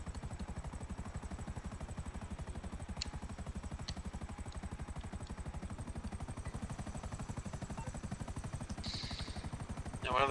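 Helicopter in GTA V flying steadily, a continuous rhythmic rotor chop held at an even, fairly quiet level throughout with no talking.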